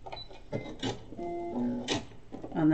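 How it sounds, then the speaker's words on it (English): A sewing machine stitches down the edge of a fabric scrunchie in short mechanical bursts with whirring and ticking, close by and moderately quiet, and a faint hum runs beneath it. "So I'm just going to stitch down this first bit here."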